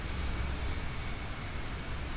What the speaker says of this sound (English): that's also why it is so quiet over here, except for those sounds of the other aircraft